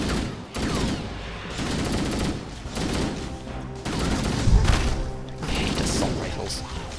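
Sustained automatic assault rifle fire in Halo: Combat Evolved, dense bursts of rapid shots that run almost continuously with brief pauses, loud and close, mixed with game effects.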